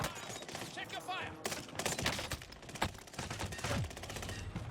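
Rapid bursts of Oden assault rifle fire in Call of Duty Warzone crack in dense repeated volleys with other gunfire mixed in, while voices talk underneath.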